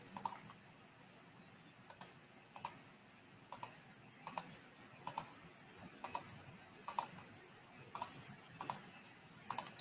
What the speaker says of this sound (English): I'm just left clicking around to capture these points or to capture this peripheral seal.